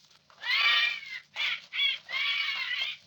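A soldier mimics a bird call with his voice, a few warbling, whistle-like phrases in quick succession, clear and close, with short gaps between them.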